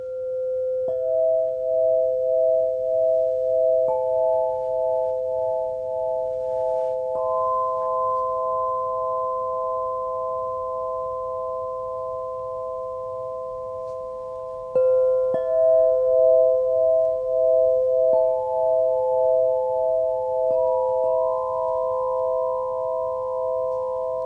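A crystal harp tuned to 432 Hz rings out in long, pure sustained tones, each new note struck and layered over the last in slow succession, clear and fairly loud with no voices.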